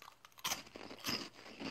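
Close crunching of crispy caramel-coated Pikachu-head snacks from a Japanese sweets selection, a few sharp crackling bites in quick succession followed by brittle chewing.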